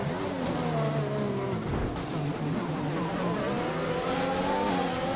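Formula 1 cars in the racing game F1 2021 at the Austria round of an esports league, engines screaming and revving loudly through gear changes as cars battle closely through a corner, no voices.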